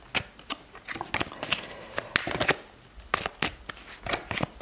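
A tarot deck being shuffled by hand, bursts of riffling and slapping cards in quick irregular clusters, close and fairly loud with no voice over it.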